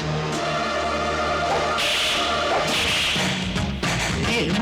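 Whip cracks cut through a loud, busy film scene from the Bollywood comedy Chaalbaaz, with sharp bright snaps over dense music and effects.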